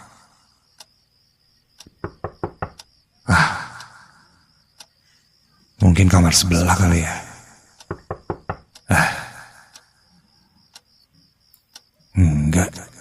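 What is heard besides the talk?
knocking on a bedroom door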